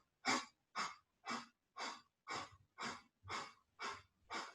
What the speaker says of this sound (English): So we're going to do the breath of fire. Exhale strongly.